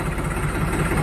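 A New Holland 3630 Super Plus tractor engine runs steadily just after starting in neutral, a dense, close, continuous low rumble with no talk over it.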